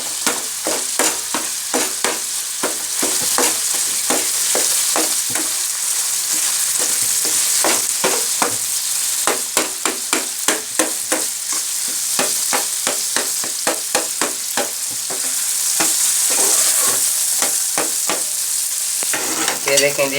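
Beef brain masala sizzles steadily in a hot pan while a utensil breaks it up, giving rapid repeated scraping and tapping strokes throughout, loud and close, with no talking.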